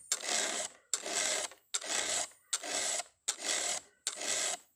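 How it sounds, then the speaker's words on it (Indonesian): A hand file rasps across a chainsaw chain in six even strokes, each a dry scraping rub about a second long with short pauses between, close and clear with no talk. "Nah kita lanjut kikir ini dulu"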